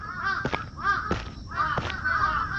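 Several crows caw in the Akai Onna horror game, three or four harsh calls spread across a few seconds over a low ambient background, with no one talking.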